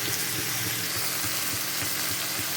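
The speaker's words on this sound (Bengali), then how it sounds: "আলু, বেগুন, আদা আর কাঁচা লঙ্কা, এটা দিয়ে খুব ভালো করে এটা ভেজে নিতে হবে" Potato, eggplant, ginger and green chili fry in a pan, giving a steady, loud, broadband sizzle that runs unbroken throughout, with faint low knocks underneath and no talking.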